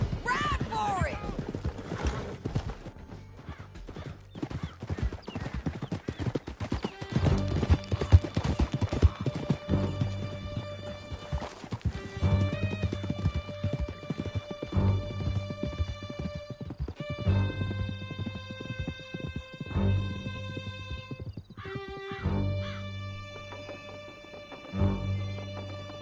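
Horses gallop in Red Dead Redemption II with rapid, steady clip-clop hoofbeats and occasional whinnies, under a music score with voices present.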